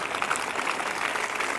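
Congregation applauding at a Sunday evening church meeting, a steady continuous clapping from a large crowd with no pauses.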